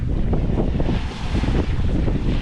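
Steady wind buffets the microphone aboard a small sailboat sailing solo toward Cat Harbor off Catalina Island, a continuous close rushing roar with gusty swells and no voices.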